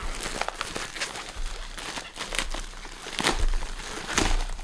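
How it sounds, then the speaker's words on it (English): A plastic mailing package is torn open by hand, giving a close run of crinkling, ripping rustles with several louder bursts across the span and no voice. "let's go ahead and just start our cut right here and tear it across"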